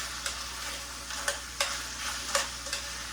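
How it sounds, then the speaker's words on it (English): Hot Italian sausage sautéing in olive oil gives a steady sizzle close by, broken by a few scraping stirs of a utensil in the pan, with no talking. "Saute that up a little bit more"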